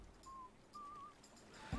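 A faint whistled melody in a video game, a few short thin whistled notes separated by gaps, quiet and alone without talk, ending with a soft low thump.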